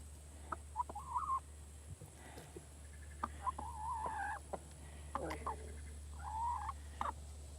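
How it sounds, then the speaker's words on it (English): Several clucks and crowing-like calls from a chicken come in short separate bursts from a few metres away over a steady low hum, with no speech. "Look at the chicken."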